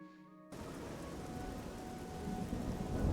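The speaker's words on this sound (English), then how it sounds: "Oh, listen to that thunder." Rain and thunder in Elder Scrolls IV: Oblivion, arriving abruptly as a dense wash of rain with a deep rumble that swells louder toward the end.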